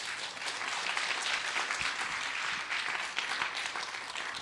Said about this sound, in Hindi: एक ताली हो जाए सर के लिए